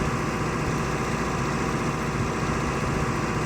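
Steady, dense drone of a tractor engine pulling a Rau Spiram cultivator in Farming Simulator 19, a constant low rumble and hum with no breaks and no voices.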